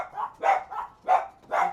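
A pet dachshund barks three times in a steady rhythm, sharp and close, each bark followed by a short pause, with no other voices.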